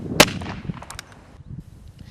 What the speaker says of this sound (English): Juan Vidal and Chris Price show us how to properly fire their pistols